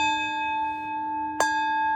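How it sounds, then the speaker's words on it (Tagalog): A bell rings with a steady sustained tone and a sharp fresh strike about two-thirds of the way through, sounding clear and fairly close with nothing else over it. "Yung pag-iingay ng bell na tinatawag, yung kalembang ng mga ganitong tunog"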